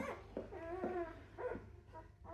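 Newborn wolfdog puppy, a big grey male, crying in a series of loud, close whining cries with short breaks between them.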